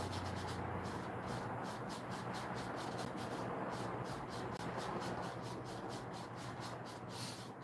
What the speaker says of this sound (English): I need to find a brush that'll like scrape away this space here.